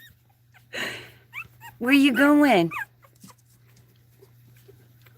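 Young puppies whimpering and yipping in short high whines, one louder drawn-out cry in the middle, close by, with a person speaking softly briefly.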